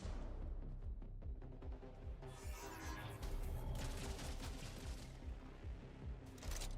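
Rapid gunfire from the Jump Space video game crackles in dense, continuous bursts with short gaps, steady and fairly loud throughout, with occasional heavier impacts.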